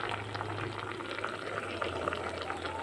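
A pot of paksiw, Filipino fish stewed in vinegar, at a steady bubbling boil, close up and continuous with a low hum beneath, no voices.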